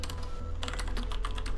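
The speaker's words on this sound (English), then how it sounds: "Sorry if the typing's a little bit annoying." Rapid typing on a close computer keyboard, a dense run of sharp clicks and key taps, loud and near, with a low hum underneath.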